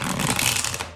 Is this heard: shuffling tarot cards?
yes